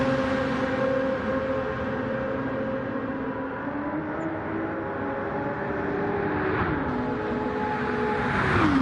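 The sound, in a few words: Aston Martin race car passing, from a video game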